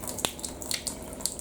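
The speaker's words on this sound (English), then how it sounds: "I'm just going to get myself a glass of water" Water running from a tap into a glass, a light continuous splash with small bright clinks and drips, fairly quiet, no speech.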